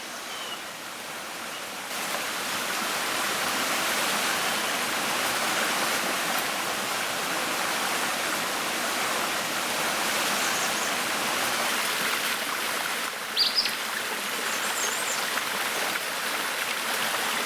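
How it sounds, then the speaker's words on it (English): Fast-flowing river in a broadleaf forest in Belize, a loud, continuous broadband rush of water that holds steady throughout, with no talk. "Here along this fast-flowing river in the broadleaf forest"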